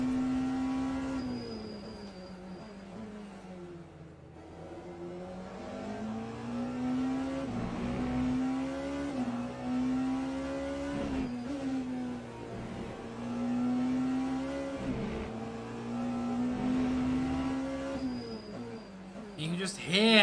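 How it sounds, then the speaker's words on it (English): Porsche race car engine pushed hard in the sim racing game Le Mans Ultimate at Bahrain, a steady high-revving drone that rises and dips with gear changes and corners, loud and close, with commentators talking over it throughout. "You can just hear how hard Pierre Moreno is pushing that Porsche to get it"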